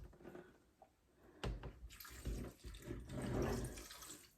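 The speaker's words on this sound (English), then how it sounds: "I'm going to add a little bit of water." Water trickles and splashes faintly as a little is poured into a bowl of homemade beef dog food with blueberries, a soft, brief liquid pour close by.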